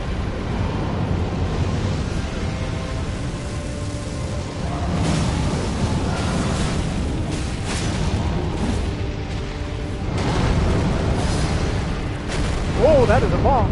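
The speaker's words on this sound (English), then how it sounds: "that is a bomb" Bomb blast in the video game Elden Ring, rumbling booms swelling and fading over several seconds amid game noise and music, with a short rising tonal flourish near the end.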